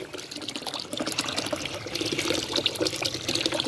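Water sloshes and trickles as clothes are rinsed in an ultrasonic clothes cleaner, making a continuous close splashing and bubbling wash with no talking.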